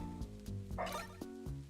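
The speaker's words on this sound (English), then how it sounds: "I don't actually know what the dog's barking at" A dog barks indoors in a quick series of several sharp barks, moderately close, repeating in a steady rhythm over a low background.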